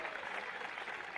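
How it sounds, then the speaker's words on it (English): Steady applause from a large crowd at a hockey match in Stratford, a dense, continuous clapping wash with no gaps or talk over it. "he will get a round of applause from this very good crowd here in Stratford"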